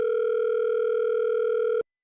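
A single steady telephone tone holds for nearly two seconds, clean and constant, then cuts off abruptly into silence as a call to a podcast guest goes out.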